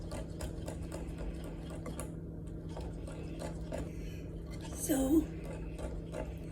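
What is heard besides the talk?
manual hand mixer mixing cake batter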